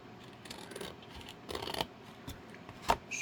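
Scissors snip along a straight line through material for a stacked suitcase and drawers craft, several short crisp cuts spaced apart, close and fairly quiet with no talking.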